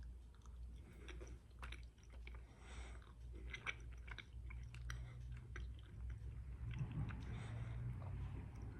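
A watermelon-flavored Lifesaver gummy is chewed close up: soft, wet, squishy mouth sounds keep up a steady, quiet rhythm over a faint background hum, with no talking.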